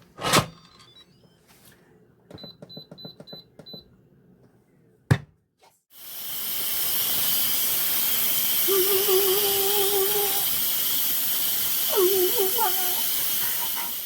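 An Instant Pot cooking French onion soup gives a few clicks and a short run of beeps, then bursts into a loud, steady rush of hissing steam as the pressure is released, continuing to the end.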